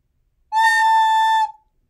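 A recorder plays a single sustained A note, clean and steady for about a second before trailing off, bright and close with no other sounds.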